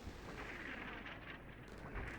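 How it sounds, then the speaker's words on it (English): Artillery fire in the Combat Mission Shock Force 2 war game: a dense, continuous rumble of distant booms and blasts rolling together for a couple of seconds, with no voices. "There's his artillery that he's adjusted on."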